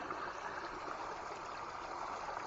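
A small forest creek and spring trickle steadily nearby, a continuous even wash of flowing water with no breaks and no voices.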